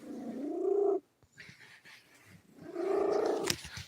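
A big domestic cat makes two long, loud, rumbling vocal sounds close by, closer to moans than a soft purr, with a quieter stretch of small rustles between them.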